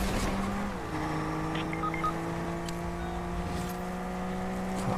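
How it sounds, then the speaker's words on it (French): An amphibious car in Fortnite drives with a steady engine hum, its pitch dropping early, while short tire squeals and skids cut in over the continuous drone. "C'est une voiture amphibie."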